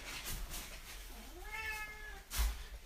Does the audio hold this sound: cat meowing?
yes